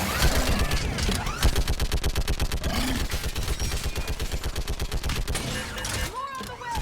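Rapid, sustained automatic gunfire from a Mass Effect 3 battle on a bridge, a steady rattle of shots running nearly the whole stretch, with voices calling out over the shooting.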